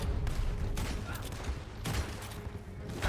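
Gunfire in the Red Dead Redemption 2 video game, a few loud bursts of shots at about 0.3, 0.8 and 1.9 seconds over a constant dense rumble of game noise, with a voice faintly present.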